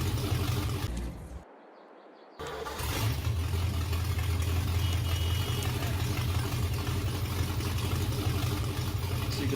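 The Porsche-Diesel tractor engine in Farming Simulator 22 idles with a steady low rumble, interrupted by a brief near-silent gap before the drone resumes evenly and continues at a constant level.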